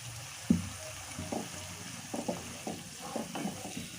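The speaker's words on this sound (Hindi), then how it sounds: "तो अब हम क्या करेंगे कि इसमें डाल देंगे ग्रेवी" Gravy poured into fried masala that has released its oil, for an Uttar Pradesh-style fish curry, with a faint, low sizzle and intermittent soft splashes and stirring scrapes in the pan. No voices are heard.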